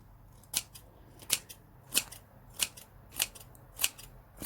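Scissors snip notches into fabric for a round scrapbook box, seven crisp, evenly spaced cuts ringing out close and alone against a quiet room.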